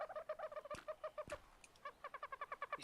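A bird in the Fortnite video game gives rapid repeated gobbling, clucking calls in quick bursts, fairly faint, broken by a couple of sharp clicks midway and no voices.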